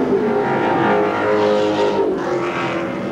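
Race cars at Seekonk Speedway in weekly oval racing, engines roaring loudly past and swelling then fading as a pack goes by, without speech.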